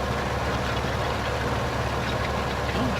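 A tractor engine idles steadily in Farming Simulator 15, a constant low rumble with a faint knocking texture that stays even throughout, with no talking.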